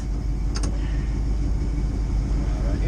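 A car engine idles with a low, steady rumble at a border crossing, the hum continuous and moderately close, while people talk faintly over it.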